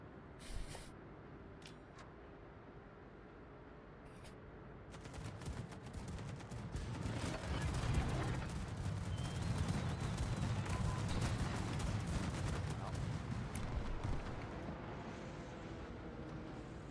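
Warship guns fire in World of Warships in a dense spray of sharp cracks and booms that swells into a sustained barrage in the middle and then eases off a little, moderately loud against a steady background.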